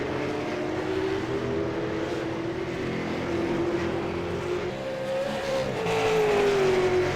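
A V8 Supercar race car engine at Oran Park circuit drones and revs, its steady tonal note shifting pitch as the car powers through the track, building slightly louder toward the end.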